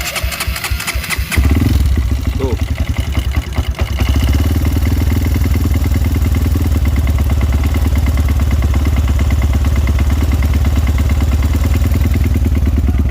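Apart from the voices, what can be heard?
Honda CRF 200cc bore-up motorcycle cold start with clacking engine noise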